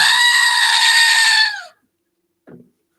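A goat gives one loud, long, wavering bleat at close range. It lasts about a second and a half before cutting off into silence, followed by a faint short sound.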